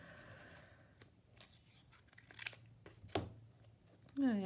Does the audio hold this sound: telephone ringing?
no